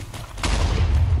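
A gravel firework from a Minecraft game mod goes off in a short, rough burst of crackling blasts that swells abruptly partway through and holds loud to the end.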